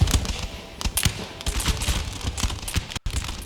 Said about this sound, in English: I'm having my troops fire